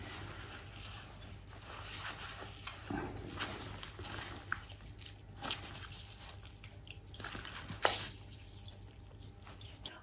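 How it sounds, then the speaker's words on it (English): Wet squishing and dripping as walnut ink is squeezed through an old t-shirt, soft irregular squelches and trickles close by, continuing for several seconds without talk. "I'm just squeezing this through an old t-shirt"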